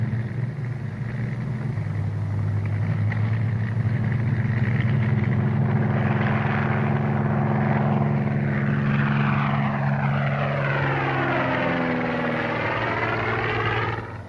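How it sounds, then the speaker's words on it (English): A Spitfire fighter plane passes overhead, its propeller engine droning steadily and then rising and falling in pitch as it sweeps past close by, loud and alone. "The Spitfire is Britain's answer."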